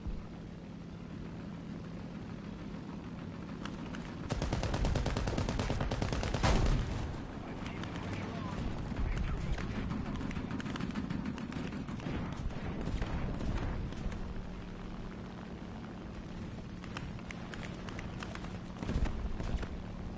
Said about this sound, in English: They're all shooting at me